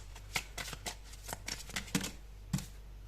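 Tarot cards are handled, shuffled and drawn by hand at close range, a series of soft crisp flicks and slaps at uneven intervals, with no talking.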